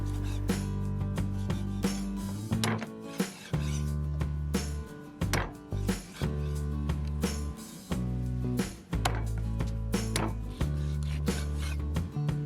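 A cleaver chops chicken feet in half on a board again and again in sharp, uneven chops, close up, with a steady low hum underneath.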